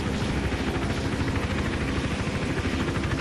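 A helicopter in a stealth action video game thrums with steady, dense rotor chop, loud and constant throughout with no speech over it.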